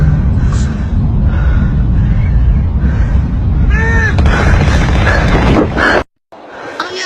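Gunfire in a TikTok clip sounds as rough, continuous loud crackling and booming bursts over a dense roar, close and distorted, then cuts out briefly before resuming.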